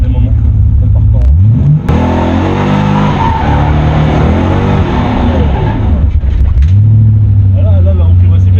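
A close, loud engine climbs in pitch as it accelerates, holds a high whine, then drops sharply in speed before picking up again, with voices talking over it.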